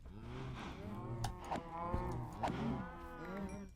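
Minecraft cows in a farm pen let out several drawn-out moos, overlapping one another near and loud, with no talking.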